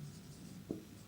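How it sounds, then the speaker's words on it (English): A pen scratches steadily across paper while a math problem is worked out, a low continuous scrawl with one brief louder stroke partway through, close and fairly quiet. "see I write here"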